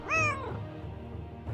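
A cat in the video game Nancy Drew: Lights, Camera, Curses lets out one short, clear rising meow near the start, followed by a quiet rustling background.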